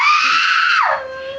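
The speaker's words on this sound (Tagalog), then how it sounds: "Ba't sumisigaw ka?" A child lets out a loud, sustained high-pitched scream that drops abruptly into a lower wail, close and alone.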